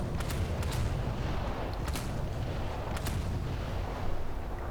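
Rapid bursts of 20mm naval gunfire in War Thunder, several sharp reports spaced through the clip over a constant loud rumble of battle noise.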